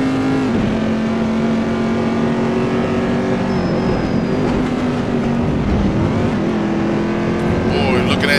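The number 8 SunTrust Chevrolet Corvette GT2 race car in a racing video game at Imola, its engine droning loud and close with a steady pitch that dips and climbs through gear changes, while a commentator talks over it.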